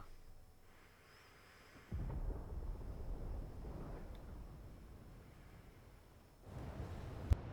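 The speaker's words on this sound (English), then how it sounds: "Sounds like thunder." Thunder rolls in the video game Final Fantasy XVI, a low broadband rumble that surges abruptly, drifts on, then swells again near the end, fairly quiet and with no voices.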